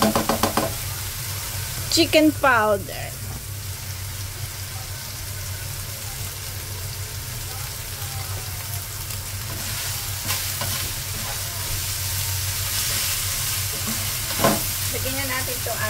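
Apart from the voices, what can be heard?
stirring palabok sauce in a hot pan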